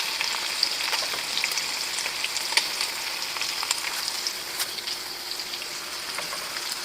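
Shrimp paste (alamang) sizzles and crackles steadily in a hot pan with cassava leaves for ginataang talbos, a dense continuous frying hiss with scattered sharper pops, close and alone.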